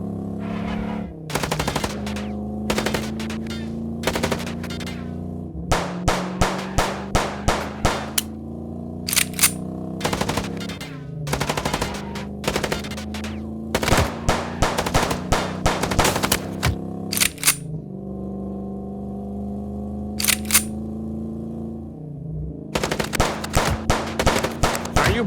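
Rapid bursts of gunfire from a Chicken Police video game shootout ring out in loud, repeated clusters over a steady engine drone from a vehicle chase, with no talking.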